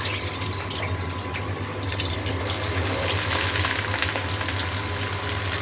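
Potatoes sizzle steadily in hot oil tempered with nigella seeds, a loud, close, continuous crackling fry that swells slightly partway through, with no talking.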